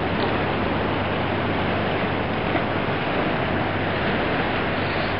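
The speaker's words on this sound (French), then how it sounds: "Donc la marée qui arrive par là également." Rising tide rolling in at Saint-Malo, near the Fort National: a steady, full wash of surf with constant wind rumble across the microphone, unbroken and fairly loud, with no voices.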